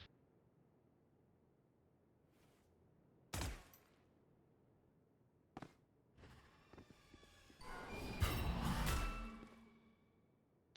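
Gunfire in the video game Valorant, a couple of sharp isolated shots early, then a denser flurry of shots and impacts later, over a quiet background.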